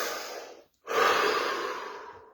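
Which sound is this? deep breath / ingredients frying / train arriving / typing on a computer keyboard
deep breath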